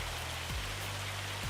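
Steady hail pattering across the ground in the Riverbend Springs map of Farming Simulator 25, a dense, even drumming that holds constant throughout, with a faint low hum underneath.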